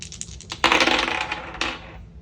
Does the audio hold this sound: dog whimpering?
no